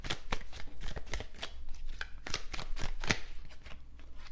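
Message cards for a card reading are shuffled in a steady stream of crisp riffling flicks, close and fairly loud, with no voice over them.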